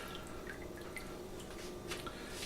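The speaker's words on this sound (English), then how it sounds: "You can do it like this and pick it up and let it drip that way" Turkey stock dripping off bones lifted out of a pot after simmering, a steady patter of small drips against a low background hiss, with no talking.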